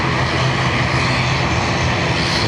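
Large jet airliner rolling out after landing at Dublin Airport, a loud steady engine roar close by, continuous and unbroken.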